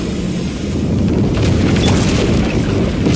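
A breakable wall blasted open in a video game, a loud rumbling boom with crumbling debris and crashing rubble rolling on for several seconds, no voices.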